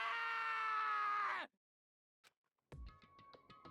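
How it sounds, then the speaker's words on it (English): Taka from the video game Danganronpa 2 screams loudly for about a second and a half, then the scream breaks off into near silence, followed by a faint click and a short burst of bright game chimes and thuds. "As Taka's sad screams invaded our skulls"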